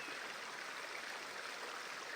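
A flowing creek in a calm natural setting, a soft, steady rush of running water with an even hiss and no pauses, fairly quiet and heard alone.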